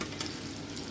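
Camote (sweet potato) frying in hot oil, giving a steady dense sizzle and crackle throughout, close and fairly quiet.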